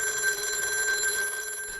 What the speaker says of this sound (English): my phone started to ring